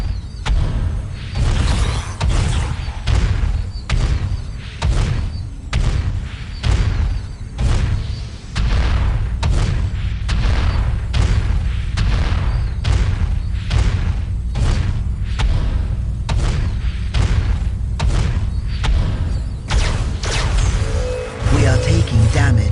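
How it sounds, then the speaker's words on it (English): Enemy fire explosions in Warhammer 40000: Dawn of War - Dark Crusade, with an Eldar force fighting in the Thur'Abis Catacombs: dense, loud, repeated thuds and booms land in quick irregular succession over a constant rumbling battle din. "Incoming enemy fire."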